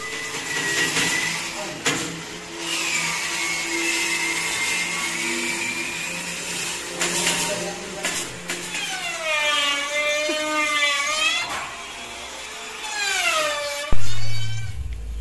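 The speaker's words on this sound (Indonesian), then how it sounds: "Satu lembar kayak gini dipotong-potong hingga menjadi bagian-bagian" A whirring power tool cuts a wooden sheet into pieces for custom 3D boxes, its steady motor whine rising and falling in pitch as the blade bites into the wood, with a thump near the end.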